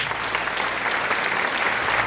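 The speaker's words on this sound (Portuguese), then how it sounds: "Dê uma salva de palmas para Jesus." Steady applause from a church congregation fills the space, a dense wash of many hands clapping together throughout, with no voices on top.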